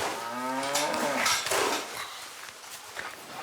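A dairy cow on a French farm lows in a long, close moo that fades into farmyard ambience with faint shuffling and clatter.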